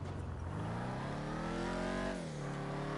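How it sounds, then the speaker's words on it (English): A Ford Mustang with a 10-speed automatic accelerates hard through its short gears, the engine note climbing loud and close with a quick upshift about two-thirds through, then rising again; no talking. "you can hear the gears are super short in this with the 10-speed auto"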